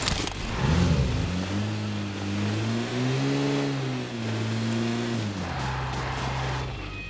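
Vehicle engine in a mobile battle royale video game revving up and holding a droning pitch, then easing down and steadying, close and continuous over several seconds.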